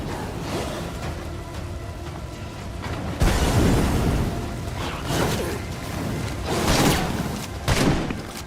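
A grenade explodes in State of Decay 2 amid a firefight: a sharp, loud blast lands midway, followed by several more booming bursts and crackling game noise, with no voices heard.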